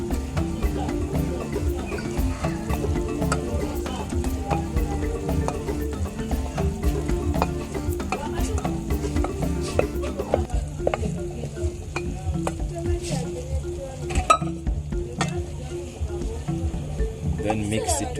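Traditional African greens with silver fish being stirred in a pot, with continuous close scraping and clattering of a spoon and a bubbling sizzle that thins out toward the end.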